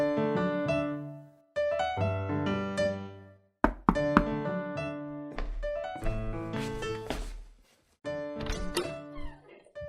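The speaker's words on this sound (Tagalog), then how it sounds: "Oh, kayo pala'y kumakatok." Someone knocks on a door, several separate groups of resonant thuds spaced across the stretch, close and fairly loud with quiet gaps between.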